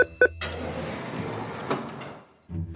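A bathroom door in an animated riddle story unlocks with two short clicks, then a long sliding, rumbling swing that fades out before a final low thud.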